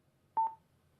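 Cardo Scala Rider Freecom 2 motorcycle headset gives one short electronic beep, a clear steady tone with a slight double pulse, alone against quiet background.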